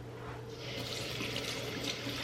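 Tap water runs into a kitchen sink while blueberries and raspberries are rinsed, a soft steady splashing stream that swells after a quiet start, fairly faint and without talk.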